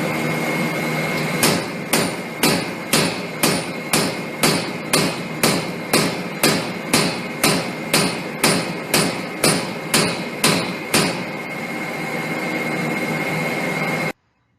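An industrial impulse cleaning unit firing a 20-impulse cycle, a loud even series of sharp bangs about half a second apart over a constant heavy roar, ending in sudden silence.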